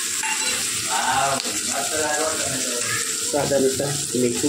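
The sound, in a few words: tomatoes added to hot oil with asafoetida, sizzling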